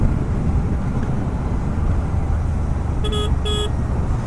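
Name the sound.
horn of Royal Enfield Shotgun 650 motorcycle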